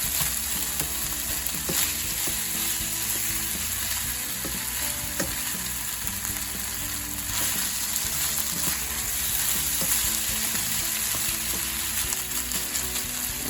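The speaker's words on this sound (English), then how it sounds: "Okay, I got some butter melting. There's my rice. We'll brown that off a little." Rice browning in melting butter in a home pan gives off a steady, close, continuous sizzle with light scraping and stirring ticks throughout, with no talk heard.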